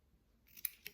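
Two crisp, close snips of scissors cutting paper for a Father's Day pop-up scrapbook card, following a near-silent stretch, with the second cut slightly softer than the first.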